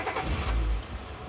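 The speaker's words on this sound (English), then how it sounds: "Sheriff Murphy starts the car and drives Sally back to the high school." A sheriff's car engine starts with a low rumbling crank and catch, then idles close by, brief and steady with no talking.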